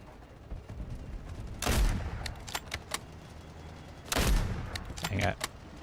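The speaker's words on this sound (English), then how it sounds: "I'm just going to keep firing in that general area" Gunfire in a shooter video game played on Xbox comes in two loud, crackling bursts a few seconds apart, followed by a few sharper shots. It sits over a steady background of game noise.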